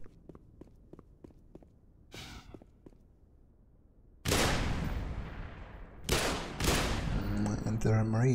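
Gunfire from Marines in the game Black Mesa, with sharp bursts and rattling shots breaking out in several loud volleys after a quieter stretch of light footsteps and clicks.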